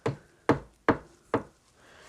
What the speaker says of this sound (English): he started knocking on the window